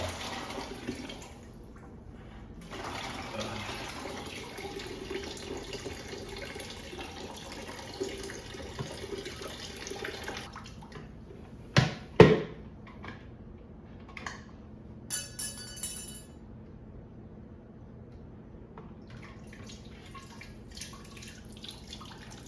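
Water pours out of a spotless water system tank and drains away, a soft hiss and trickle with a few louder splashes and clunks midway, fading to quiet dripping.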